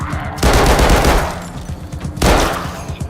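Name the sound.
gunfire in the video game Arizona Sunshine II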